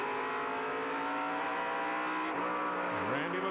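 Stock cars roar past at the 1997 Galaxy Foods 300 as the green flag drops, with layered high engine whines, rising revs and a falling pitch sweep as one car passes close, all sounding distant and thin.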